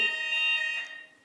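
A building fire alarm sounds during a student union election hustings, a steady loud electronic tone with layered harmonics that holds briefly and then fades away.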